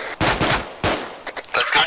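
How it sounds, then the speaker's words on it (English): Loud, close bursts of automatic gunfire in an Arma military video game, two long rattling volleys followed by scattered shorter shots and a final rapid burst, with no talk over them. "Blade keeps shooting himself."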